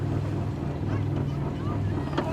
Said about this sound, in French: Je vais mettre le moteur au point mort.